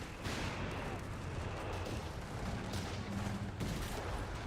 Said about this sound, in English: big barrages come in